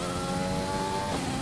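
A Formula race car in an F1 racing game, on the Bahrain circuit during qualifying, screams at high revs with a steady engine whine, and its pitch drops as it shifts up a gear.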